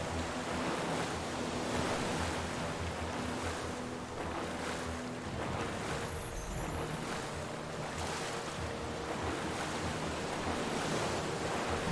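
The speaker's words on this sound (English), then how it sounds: "they are rough seas indeed. I like the water effects, though" Rough sea waves in the video game Stranded Sails surge and crash continuously, a dense, loud wash of surf with wind-like hiss that swells and recedes in uneven pulses.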